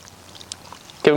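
Small 2 mm fishing micro pellets pour into a bait tub full of water, a brief loud rushing patter that arrives near the end after a quiet stretch.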